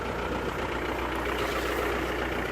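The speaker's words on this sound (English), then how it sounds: "As you can hear, the engine's running on my other vehicle." A car engine idles steadily beside another vehicle during a wheel change, a continuous low rumbling hum at close range with no talk.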